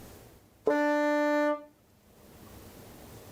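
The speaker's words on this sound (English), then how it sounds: "Next up's the E." One held tenor saxophone E note, bright and steady for about a second, played with the octave key, stopping cleanly and leaving low background hiss.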